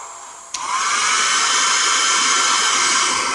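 A hair dryer switches on with a click and blows loudly and steadily, drying a watercolor floral painting, a constant close whoosh with no talking.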